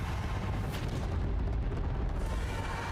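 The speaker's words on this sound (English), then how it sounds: "Just don't be near the rocket because it's launching." A rocket launch from a video game trailer: a sustained, dense roar that stays loud and steady throughout, with low rumble and hiss filling the whole span, no voices.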